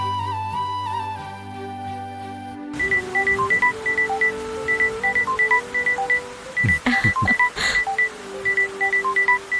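A phone call is dialled: a run of short, clear keypad beeps in quick bursts over a quiet background, loud and close, following a brief musical intro.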